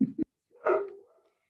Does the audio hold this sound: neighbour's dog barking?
yes